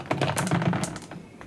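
Three dice rattle and clatter across a table during a Shadespire tabletop game, a quick burst of sharp little clicks that taper off.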